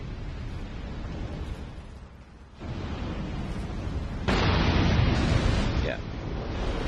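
In Dark Souls 2: Scholar of the First Sin, in the Brume Tower, cast runners explode as they hit fire, producing loud booming bursts of noisy rumble, with the strongest blast near the end.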